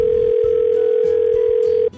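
A steady, loud telephone dial tone drones on a phone line while a call is connected to an advisor. It holds unbroken for about two seconds, then cuts off abruptly, with faint line noise underneath and no talk.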